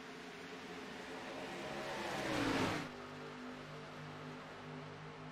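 Race cars roar past at Indianapolis Motor Speedway in a racing video game, engine pitch sweeping upward and peaking as a car passes close by, then falling back into a steady multi-car drone, with no talking.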